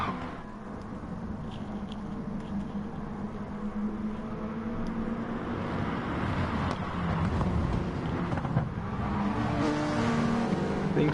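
Touring cars racing at Interlagos in a racing video game, a dense continuous engine roar with revving and cars sweeping past, steady and loud throughout with no voices.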